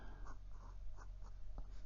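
Faint, close scratching of a Pilot Elite fountain pen with a fine steel nib on Clairefontaine 90 gsm paper, a few short soft strokes in a quiet room.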